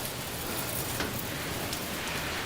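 Steady rain falls on a Manhattan street on a wet Saturday, a dense, even hiss close by with scattered drop spatters throughout and no talking.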